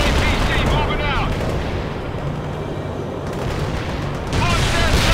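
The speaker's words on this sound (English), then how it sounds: "Firing at hostiles. Armored transport joining combat." A Bradley APC opens fire during a World in Conflict battle, a dense, loud rumble of gunfire and explosions that runs without a break across the whole stretch.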